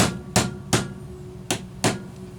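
Light hammer taps on a Poulan Pro 405 Plus chainsaw piston assembly, five sharp metallic knocks at uneven intervals, close and moderate in loudness, with a quiet hum between strikes.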